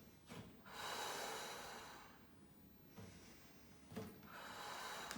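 Breathing during an exercise-ball workout: a few sharp, audible exhales and inhales through the nose and mouth, close and fairly soft, alternating with quieter pauses.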